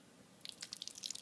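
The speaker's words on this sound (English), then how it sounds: "I'm pouring water on my other shoes over here" Water drips and beads off Nike and Jordan sneakers treated with Never Wet liquid repellent: a quiet run of small, separate, irregular drops and patters that begins after a short silence, close and faint.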